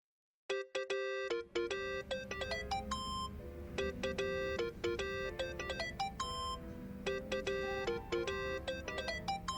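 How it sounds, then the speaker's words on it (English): A mobile phone ringtone in the video game Yakuza: Like A Dragon plays a bright, repeating electronic melody of chiming tones, steady and continuous, with no talk over it. "Think that's your phone, man."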